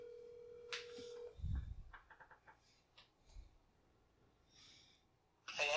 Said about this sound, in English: Give him a phone call right now.